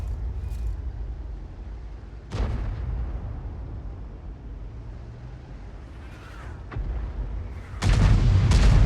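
Tank cannon fire in World of Tanks, with an Object 261 and a Viz-55 in the battle: several deep booming shots, one mid-clip and a heavier rumbling blast near the end, over a low continuous engine-like drone.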